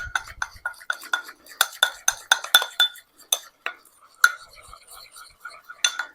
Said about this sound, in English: So I'm just giving it a mix here